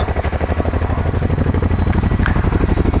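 An RAF Chinook twin-rotor helicopter at a flying display, loud and close, its rapid rhythmic blade thudding pulsing steadily over a deep engine drone.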